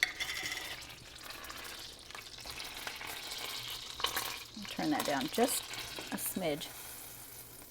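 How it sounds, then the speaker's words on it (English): Butter popping and sizzling in a hot pan while spaghetti squash is prepared, a faint bubbling fry with scattered small pops, as a voice talks briefly over it. "The popping that's going on in there with the butter is just the liquid part of butter"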